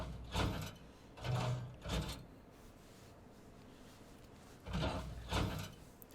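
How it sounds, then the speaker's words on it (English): Doors in Final Fantasy XIV sliding open and shut, a cluster of three mechanical swishes, then a pause, then two more, each fairly close and clear with no talking. "That sounds like doors."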